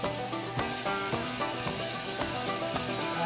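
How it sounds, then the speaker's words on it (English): Sumatran coffee beans crack inside a roaster drum, sharp irregular pops breaking over a steady sizzling, rumbling background. "Right, starting to crack now."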